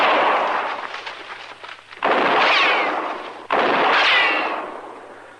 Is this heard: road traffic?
no